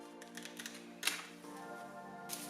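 Box of EarFun Tune Pro headphones being opened, with soft close clicks, taps and cardboard scrapes plus a brief sharper snap, quiet and brief with no voice.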